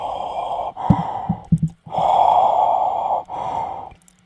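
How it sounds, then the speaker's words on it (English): Heavy, raspy Darth Vader-style breathing into a Darth Vader mug, with long hollow resonant inhales and exhales broken by short snorts and clicks, close and loud. "I'm breathing really weird into the mug"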